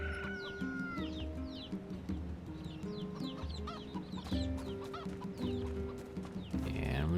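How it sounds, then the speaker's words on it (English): In the video game Nier Replicant, a chicken clucks in a medieval-looking village with repeated soft clucks and chirpy calls, set against layered ambient game music. "And here's a chicken."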